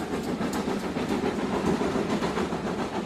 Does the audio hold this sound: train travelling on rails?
yes